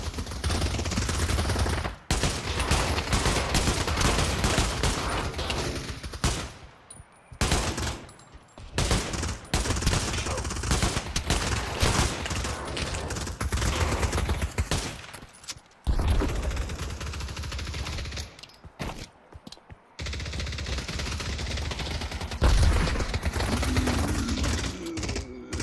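Sustained gunfire in the VR shooter Pavlov, long dense bursts of rapid automatic shots with brief pauses, loud and close throughout.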